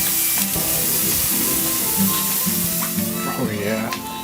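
A well-marbled steak sizzles loudly and steadily on a farmhouse grill, a constant frying hiss with a person talking over it.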